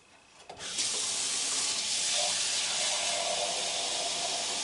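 Water pours into a large pot of seafood gumbo as it is topped up toward two gallons; a steady, close rushing splash begins after a brief moment and runs on without pause.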